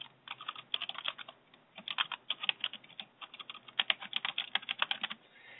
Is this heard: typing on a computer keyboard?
yes